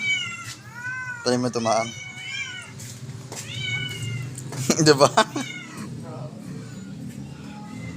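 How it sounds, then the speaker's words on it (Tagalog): Several hungry cats waiting to be fed meow repeatedly, with drawn-out plaintive cries and a burst of overlapping caterwauling, close by, while people talk intermittently. "Mga nakaabang mga pusa dito para kumain eh."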